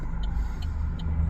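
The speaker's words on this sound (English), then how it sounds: "Oh, that's an old car. That's nice." An old car rumbles past on the road, a low steady engine drone at moderate distance with faint ticking overhead, lasting only a moment and without any talking.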